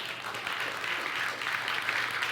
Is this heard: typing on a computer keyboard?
no